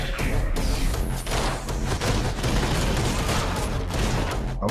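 Rapid bursts of gunfire and impact thuds from the first-person kicking shooter game Anger Foot, dense and loud, with sharp transients crowding one another over a short stretch of frantic action.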